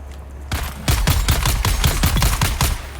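Rapid rifle fire in Dune Awakening: a fast string of close, loud shots in quick succession, following a brief quiet start.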